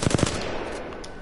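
An R301 rifle in Apex Legends fires a fast automatic burst, a few rapid booming shots at the start that run into a dense, continuous rattle of gunfire.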